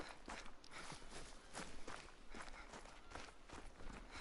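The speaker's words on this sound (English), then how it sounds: "I just heard the footsteps running beside me" In theHunter: Call of the Wild, quick animal footsteps patter through brush alongside the player, a steady run of soft close thuds with no voices.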